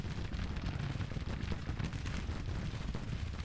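Spencer repeating rifles fire in a dense, continuous rolling volley in the Grand Tactician strategy game, a steady wash of distant gunfire with no pauses and no talking.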